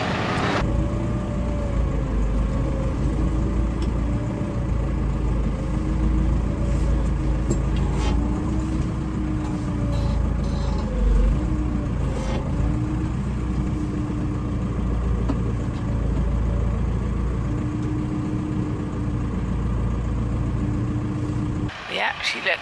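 A four-wheel drive farm vehicle's engine runs steadily and loudly close by, a continuous low rumble and drone with slight pitch shifts, continuing throughout with no break.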